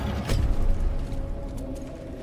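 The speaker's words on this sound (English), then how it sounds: "He shut the door in front of me." A door is shut in Baldur's Gate 3: a quick mechanical clunk and creak, followed by a low, quiet hum of ambience.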